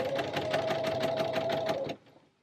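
A sewing machine stitches piping onto a lightweight dressing gown in a fast, even, rhythmic whir for about two seconds before stopping abruptly into near silence.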